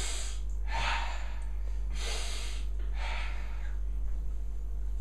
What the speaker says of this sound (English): You ask someone to take a deep breath, and they'll do this.